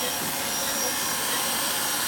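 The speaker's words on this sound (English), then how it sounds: "Once the hair is removed, we will vacuum the limb." Vacuum cleaner drawing clipped hair off an animal's limb before surgery, a steady loud whooshing hum throughout with no clear breaks.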